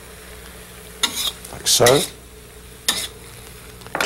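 Vegetable filling is stirred in a hot wok over a flame, with several short bursts of sizzling and scraping between quiet moments, close up, alongside a few brief spoken words.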